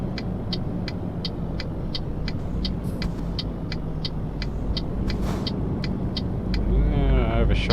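A DAF truck rolls through light city traffic in Cologne, Germany in Euro Truck Simulator 2, its engine a steady low rumble with regular ticking, a brief hiss, and a rising engine note near the end as a voice talks over it.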